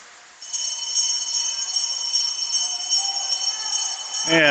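Steady ringing bell tone held for several seconds at a high school boys swimming section meet pool, signalling the final laps, over faint echoing natatorium ambience, ending with a short burst of noise.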